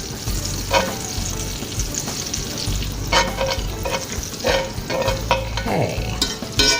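Olive oil sizzles and spits in a skillet for a fried bologna sandwich, a steady frying hiss under scattered clinks and stirring scrapes, close and fairly loud, with one brief spoken word.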